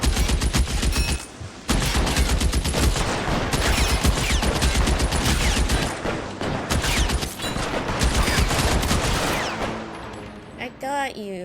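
Rapid gunfire in the video game LA Noire: dense bursts of shots and automatic fire fill most of the stretch, with a short gap near the start before the volley thins out and fades at the end, loud and close.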